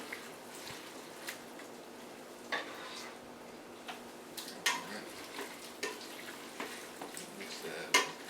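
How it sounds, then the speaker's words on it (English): Pasta with simmering sauce stirred in a pot, with soft scraping and periodic clicks and taps of the utensil against the pot over a low steady background. "Mix it around."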